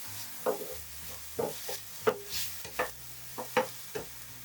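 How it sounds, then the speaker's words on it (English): Finely diced onion frying in a pan while being cooked down until soft and translucent for Japanese-style mapo tofu, giving quiet, steady sizzling broken by short scraping and stirring knocks roughly every half second. "I'll fry them until they're slightly softened and translucent"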